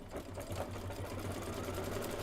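A home sewing and embroidery machine stitches a satin outline on a beach tote project, a steady continuous mechanical hum with rapid needle rhythm running throughout, close and even in level, no talking.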